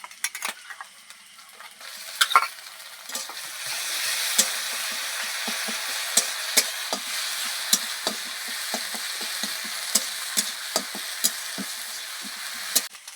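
Onion paste frying in oil in a pan, a continuous close sizzle punctuated by frequent sharp clicks and scrapes of a spatula stirring, louder after the paste goes in, with no talking.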